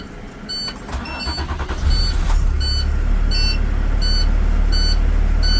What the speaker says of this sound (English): Now I'm going to turn my bus back on to build my air pressure back to 120.